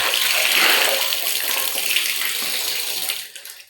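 Dirty water pours steadily over the rim of a bathtub as a blanket is washed inside, a loud continuous rushing splash that holds for several seconds before easing at the end.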